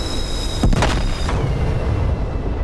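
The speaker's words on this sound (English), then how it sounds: "Anti-ship missiles out. Anti-ship missiles are out." Anti-ship missiles launching in the DCS combat flight game: a loud booming burst followed by a short roaring whoosh, over a constant heavy engine rumble.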